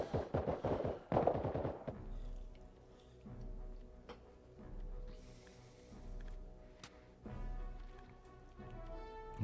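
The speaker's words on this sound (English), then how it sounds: "just got shot with friendly fire" Gunfire from the ARMA Reforger video game, friendly fire: a quick burst of sharp shots near the start, then a quieter stretch of scattered distant battle noise with low thumps and another burst near the end.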